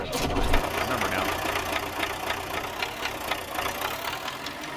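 A small tractor idles in a farming simulator game, a steady mid-pitched engine chug with a faint knocking rhythm, continuous and fairly quiet.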